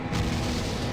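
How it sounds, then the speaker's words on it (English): A bomb blast in the action RPG Torchlight 2, a loud, sustained low rumbling boom filling the whole moment with dense, noisy roar and no talk over it. "It's a bomb."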